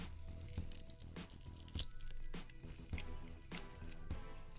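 Homemade peppered beef jerky is torn into small pieces by hand, giving a series of short dry rips and crinkly snaps with brief pauses between them, close and faint.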